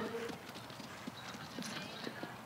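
Hoofbeats of the stallion Kórall frá Hofi tap out a quick, light, regular clip-clop rhythm under steady crowd and background noise at an Icelandic horse breeding show, fairly faint and a little distant.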